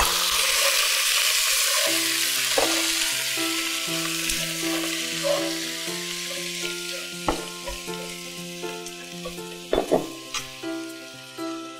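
Water splashed into a hot pan of frying carrots and bok choy gives a loud, steady sizzle with scattered stirring clatters and sharp utensil knocks on the pan toward the end, with no talking.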